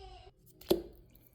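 Garlic dropped into a pot of fresh water with cleaned chicken bones for bone broth gives a single close, soft plop, with a quiet kitchen and faint leftover voice around it.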